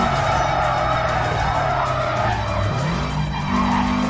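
In Need For Speed Carbon, car tires screech loudly and continuously through a corner over a roaring race engine, with the squeal shifting pitch as the car slides.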